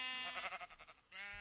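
Sheep in a Minecraft sheep farm bleat in a quick wavering series of nasal calls, fairly close, with one longer bleat following a short pause.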